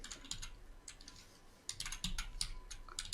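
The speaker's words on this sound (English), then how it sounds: "I'm just hitting the keyboard for fun and just typing in these random numbers" Random numbers typed on a computer keyboard for a spreadsheet, heard as irregular bursts of close, crisp key clicks, some quick runs and a few harder single strokes, with no talking.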